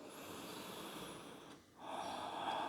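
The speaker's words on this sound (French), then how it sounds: "Je prends de grandes et profondes respirations." Deep, slow breaths during a yoga shoulder-flexibility routine, a long soft inhale hiss, a brief pause, then a fuller exhale, close and quiet.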